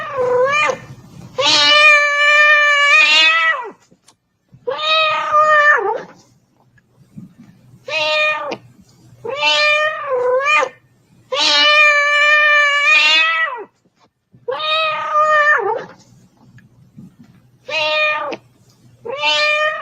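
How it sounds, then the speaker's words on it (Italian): A cat meows repeatedly in a studio, with about nine drawn-out, tonal meows spaced by short pauses, loud and close, some rising and wavering. "È la giornata del gatto, è la festa del gatto, e per noi cattolici questo è il suono più incantevole che possiamo sentire."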